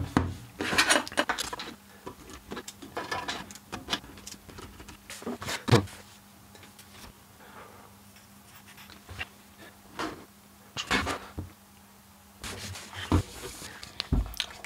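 Lid being fitted back onto an ESX Vision VE1300.11SP car amplifier, a series of close clacks, scrapes and metallic knocks in irregular bursts separated by quiet pauses.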